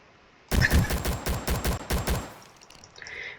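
Rapid bursts of gunfire crack out in the arcade-style game Rolling Thunder, a dense rhythmic string of loud sharp shots over about two seconds, then tapering off into faint electronic game sounds.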